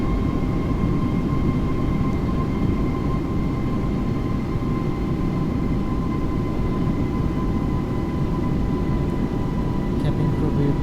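Steady, loud roar inside the cabin of an Airbus A330 airliner on approach to Colombo airport at sunset, a constant low rumble with faint tonal hum running unbroken.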